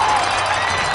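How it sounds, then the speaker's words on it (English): A crowd at a 1998 high school football game between Jenison and Rockford roars as a steady, dense wash of cheering, loud and continuous, with a voice talking over it. "The crowd's starting to get into it a little bit."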